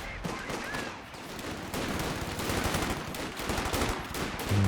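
Machine gun fire in Company of Heroes 2, a World War II strategy game, during a 2v2 match: dense, continuous rattling gunfire and overlapping volleys from mid-distance, with a commentator's voice faintly running beneath the battle noise.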